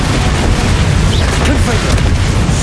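Explosive Confringo and Bombarda spells go off in Hogwarts Legacy combat, loud dense booms and bursts packed together in a continuous roar, with a voice heard over the blasts.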